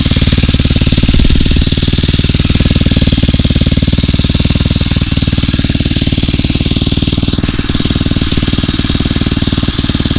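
A Phatmoto Rover 79cc motorized bicycle engine runs loud and close, a rapid, continuous chugging putter with rattling, holding steady throughout with only slight changes in pace.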